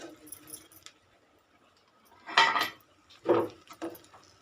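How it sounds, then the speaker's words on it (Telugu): Curry leaves and pieces of fish dropped into a frying pan of fish fry: a couple of brief clattering, sizzling bursts, close and moderately loud, separated by near silence. "ముందుగా మనం తీసుకున్న కరివేపాకు, ఫిష్ ముక్కలు ఉన్నాయి కదా, ఇవి దీంట్లో వేసేసుకోవాలి"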